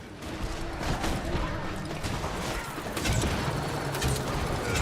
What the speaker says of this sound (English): Launch them mortars.